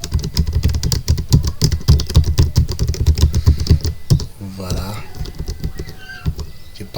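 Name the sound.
typing numbers on a computer keyboard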